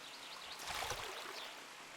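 A watery splash effect from a video game, where a character runs in and out of water, swells as a soft rushing wash in the middle of a steady hiss.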